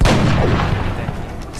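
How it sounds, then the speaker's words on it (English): A single sniper shot in a video game lands as one loud, close, booming report that rolls off over about a second and a half. "you can see Flash missed a sniper shot there"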